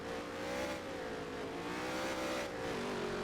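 A race car in NASCAR Heat 3 accelerates onto a drag strip on a dirt road course, its engine droning loudly with a steadily rising then dipping pitch, heard alone.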